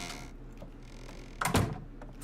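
A door is placed while building in the video game Ark: Survival Evolved, producing a single heavy wooden thunk with a short rattle midway through a quiet ambient background.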